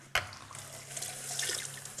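Tap water runs into a pan for a one-pot pasta dinner, starting with a sharp clunk and then a soft, steady close stream.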